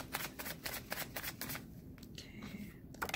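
Tarot cards shuffled and drawn during a reading, a steady run of dry papery riffles and slides close up for about two seconds, then a lighter card flick and a few soft handling sounds with no voice.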